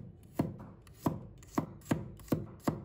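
A knife chops through a handful of garlic cloves on a cutting board, six crisp, evenly spaced strikes landing close and fairly loud in a steady rhythm, with no voices.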